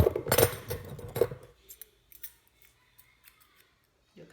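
Scissors snipping off excess lace from a handmade lace closure wig, a few close, crisp cuts and rustles followed by quieter scattered handling sounds.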